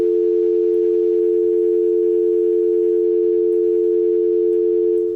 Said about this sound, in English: Either phone problem or call dropped.